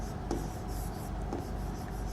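A pen scratches steadily across paper in short continuous strokes, close and fairly quiet, set against a faint background hum.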